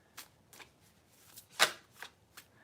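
Tarot cards being riffled and shuffled by hand, giving soft papery flicks and snaps in an irregular rhythm, one louder slap in the middle, quiet and close with no talking.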